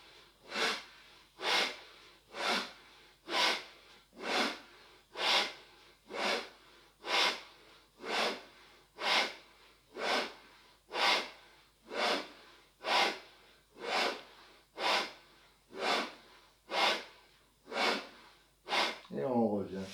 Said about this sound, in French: expire de chaque côté